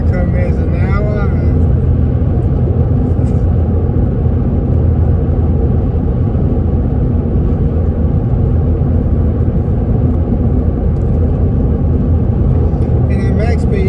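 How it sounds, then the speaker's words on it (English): A car cruising at 100 km/h on State Highway 1 in New Zealand, heading towards Whangarei: a steady, loud low road-and-engine rumble with tyre roar throughout. "I drove on the State Highway 1 in New Zealand heading towards Whangarei"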